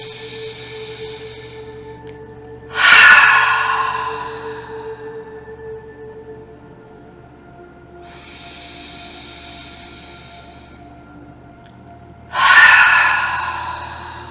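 Slow, deep breaths during a guided relaxation meditation: two loud, close inhales about ten seconds apart, with a softer, longer exhale between them and no talking.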